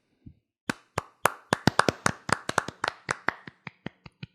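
Hand clapping, about twenty sharp claps close by, starting slowly, quickening into an uneven flurry and then slowing and fading, with no talking.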